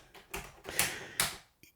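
Clicky, slightly dull keypresses on an Atari 130 XE home computer keyboard with a soft, mushy feel, a few separate strokes in quick succession, close and clear with no talking.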